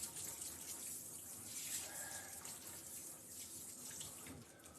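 Hands being washed under a running kitchen tap while cooking charro beans: a steady, soft splash of flowing water into a sink, continuous and fairly quiet throughout.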